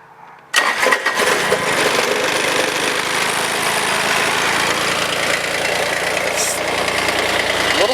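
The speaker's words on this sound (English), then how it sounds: "We're gonna crank her up and see what happens." A Kubota engine running on old gas cranks and catches after a half-second of quiet, then settles into a loud, steady, slightly rough run that continues to the end.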